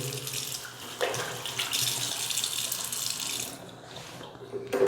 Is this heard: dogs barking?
no